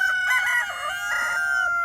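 A rooster crows loudly and close by in a long drawn-out call among backyard chickens, with no other voices present.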